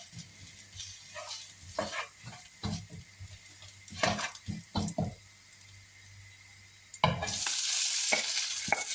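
Cooked rice stirred and fried in a pan at home, a soft scraping and sizzle coming in uneven strokes, then a louder steady hiss like running water or stronger sizzling over the last two seconds.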